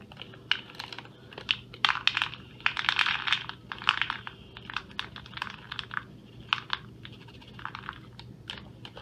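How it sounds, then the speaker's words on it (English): A packet of hops is torn open by hand during a home brew day for a grapefruit shandy, giving close, dry crinkling and rustling in irregular bursts, with no voices. "we're going to open the hop packet"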